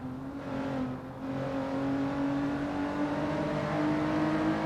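An on-board race car engine at Silverstone Circuit in a racing video game whines steadily and climbs gradually in pitch as it accelerates, loud and continuous with no talk.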